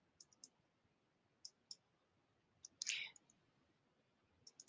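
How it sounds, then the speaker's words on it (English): Quiet computer mouse clicks, single and double, come in short sharp pairs with a brief rustle of handling between them, close and faint in an otherwise quiet room. "I'm going to click on it"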